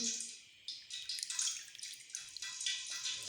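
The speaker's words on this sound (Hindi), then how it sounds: "अब इसको पानी के अंदर डिप करना है।" Chicken pieces dipped into water while making crispy fried chicken, with close, irregular splashing and dripping sounds coming in bursts, no voices.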